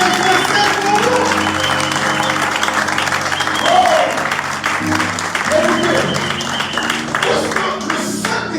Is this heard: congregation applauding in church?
yes